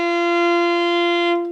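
A violin bowed on the D string sustains a steady F natural, fingered with the first and second fingers, as one clear held note of about a second and a half that fades at the end.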